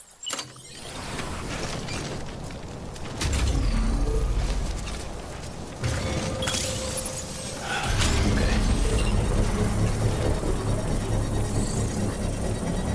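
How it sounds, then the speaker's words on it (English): A futuristic 3D printer in the Death Stranding video game lifts up and prints, giving a loud, sustained mechanical whirring and humming with layered motor drones that swell in stages, no voices present. "I like how that's a 3D printer and it like lifts up and prints from, you know, like it does."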